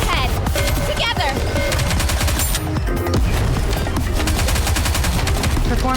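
Rapid gunfire from the anime-style shooter game Goddess of Victory: NIKKE, loud and continuous with dense repeated shots layered over game music and effects throughout.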